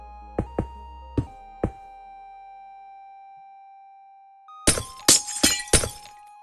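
Gray glass blocks in Minecraft break with four sharp, separate shattering cracks, then after a quiet gap a denser cluster of glassy smashes and placing thunks follows, all loud and close over a faint steady tone.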